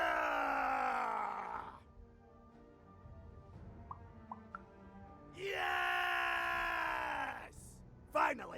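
Video game characters in Lost in Random let out long, loud, wavering battle screams, one at the start and another later on, with a quieter stretch of faint clicks and tones between.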